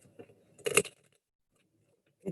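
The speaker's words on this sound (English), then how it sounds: "I'm just going to shuffle a few more times" Oracle cards shuffled by hand during a romance reading, a dense papery riffle burst lasting a fraction of a second, then quiet with a faint tap at the end; soft speech murmurs before the shuffle.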